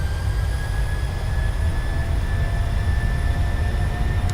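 Jet engines of a PMDG 737-700 at takeoff power in Microsoft Flight Simulator, a steady loud roar with a low rumble and a constant high whine, continuing without a break.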